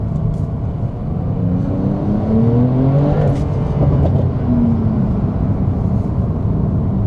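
Porsche 911 Turbo S driven fast past a speedway, a steady close engine roar that rises and falls in pitch as it revs, with continuous road rumble and no talking.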